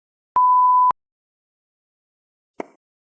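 A single steady electronic voicemail beep sounds after a recorded greeting, about half a second long, followed by a short faint click after a silent gap.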